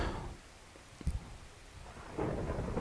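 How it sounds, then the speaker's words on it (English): Thunder rumbling in the Minecraft video game, a low rolling boom with one sharp crack partway through, then the roar swelling again toward the end over a faint rain-like hiss. "oh crap, there's freaking thunder."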